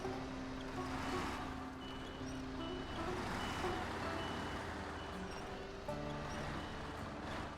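Truck in SnowRunner backing away from a stuck spot, steady reversing beeps pulsing over a constant engine drone throughout.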